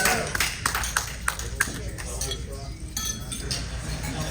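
Glasses clink together in a celebratory toast at an evening anniversary gathering, a flurry of bright, sharp chinks and pings in quick succession early on, set against a murmuring crowd and background chatter.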